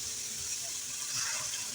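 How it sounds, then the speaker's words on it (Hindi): Water pours steadily into a pot of fried beef and spices, a continuous close splashing hiss with no break, for a meat curry with pickling spices and mixed vegetables. "अब हम इसमें 4 गिलास पानी डालकर गलने के लिए रख देंगे"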